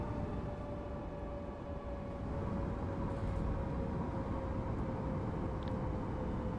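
Steady rumbling drone of a train on the Cologne-Aachen high-speed line in a railway simulator, a constant low roar with a thin sustained whine, even and continuous without speech.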